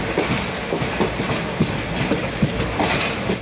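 A train rolls through Ambala Junction railway station, a steady close rumble of carriages with soft, irregular wheel clicks and knocks repeating throughout.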